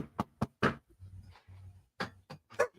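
Several sharp knocks on a door, loud and close, in two uneven bursts with a short pause between them, alone without talk.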